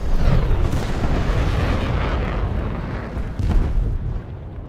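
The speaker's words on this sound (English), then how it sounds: "A decent bombing run" Bombing run explosions in the War Thunder video game, a dense continuous rumble of heavy booms with a couple of stronger bursts near the end, loud and close, with no talk.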